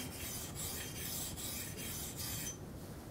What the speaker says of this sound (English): What I'm doing right now is just trying to reset the bevel and pretty much grind into some fresh metal so that I can bring that edge back to life